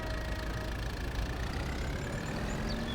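Kubota M7 tractor with rear dual wheels and front weights idling in Farming Simulator 22, a steady, continuous mid-low engine hum with no talk.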